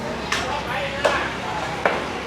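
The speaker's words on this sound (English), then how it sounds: "And this is how they do the butcher in Surat Thani. He just comes right out here, street side, chopping." Street-side butcher in Surat Thani chopping meat with a cleaver at an outdoor market, three sharp, well-spaced chops standing out against steady market chatter and background noise.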